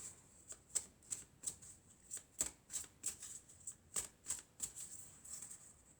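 Elf oracle cards being shuffled and drawn by hand, a string of crisp papery flicks and snaps in an uneven rhythm, close and fairly quiet with no talking.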